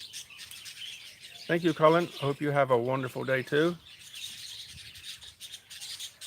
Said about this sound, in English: The birds sure are chirping.